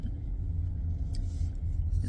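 A car driving on the road, heard from inside as a steady low rumble of engine and tyres, loud and constant with faint higher rattles over it and no speech.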